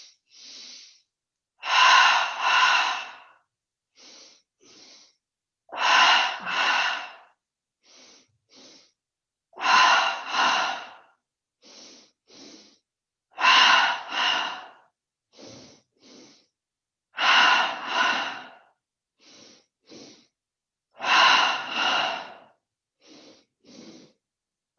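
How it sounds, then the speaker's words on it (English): Yoga breathing practice with double inhales through the nose into the belly: two short sniffs followed by a long, loud exhale, repeated steadily about every four seconds, close and alone. "take 10 double breaths, breathing in the belly, starting with the inhale through the nose twice"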